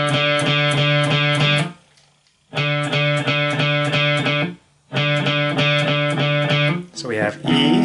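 Electric guitar picking alternately down and up on the open D string, three sustained ringing bursts with short gaps between them, close and clear, with no talk.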